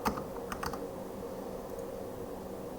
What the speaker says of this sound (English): so get that code typed up